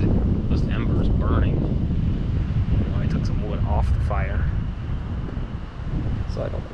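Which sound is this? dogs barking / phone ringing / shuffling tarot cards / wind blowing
wind blowing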